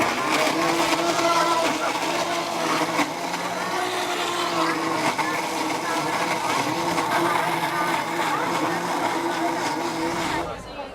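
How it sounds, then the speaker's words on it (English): A countertop blender whirs steadily at high speed, blending a spicy barbecue sauce with half a hot pepper, loud and close for about ten seconds before cutting off, with a voice faintly underneath. "We're going to go ahead and blend this up."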